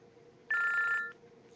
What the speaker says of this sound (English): Let me get this phone call.